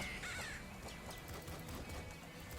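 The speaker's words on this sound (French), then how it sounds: "Donc ça c'est les corbeaux" Crows in the shooter game Nuclear Throne give a few harsh, scratchy caws, faint and mixed into busy game effects and background noise.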